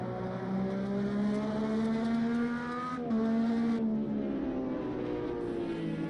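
An IndyCar engine in a racing video game drones steadily as the car pulls out on the Road America circuit, a continuous high-pitched whine with a brief gear shift midway, heard from the cockpit view.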